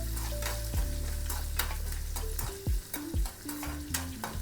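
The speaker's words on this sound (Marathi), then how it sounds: "मेथ्या आणि उडीद डाळ तेलावरती छान अशी परतून घ्यायची" Urad dal and fenugreek seeds sautéing in hot oil for masala dosa, a steady close sizzle with a few sharp clinks and scrapes of a spoon against the pan, no talking.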